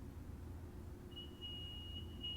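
Thin, steady high-pitched tone from a train door alarm in Train Sim World 4 on the Antelope Valley Line, starting partway through over a low rumbling cab background, faint and continuous.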